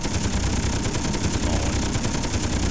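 Gatling guns fire in the video game Space Engineers, a continuous rapid rattle of dense shots that holds steady and loud throughout.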